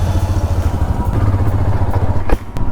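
A motorcycle engine runs steadily at close range with a low, pulsing rumble as a ride gets going on the road from Pelling to Gangtok, with a brief clatter near the end.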